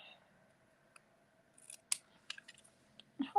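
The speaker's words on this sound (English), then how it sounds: "I'm going to cut up from the middle to that point on the basic white" Scissors snip through basic white cardstock during a paper stamping craft, a few crisp close cuts spaced irregularly over quiet room tone, the final snips louder and sharper.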